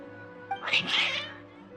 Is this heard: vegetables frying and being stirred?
no